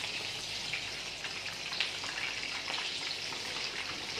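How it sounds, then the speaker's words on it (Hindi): Chicken drumsticks frying in hot oil, a steady close hiss with dense fine crackling and popping that stays even throughout. "तो इस तरह से हमने बस ये फ्राई करके निकालते हैं"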